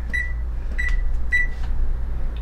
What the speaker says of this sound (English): I need to go to the microwave because I have to melt what's in there.